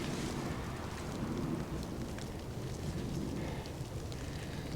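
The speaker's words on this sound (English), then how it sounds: "Since there's a storm rolling in" A thunderstorm rolls in over a campsite with a portable cabin, bringing steady rain patter and a low continuous rumble of thunder throughout.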